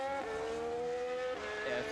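A Formula 1 car in the Bahrain pit lane during pre-season testing, its engine giving a high whining tone that holds steady, then dips and shifts pitch near the end.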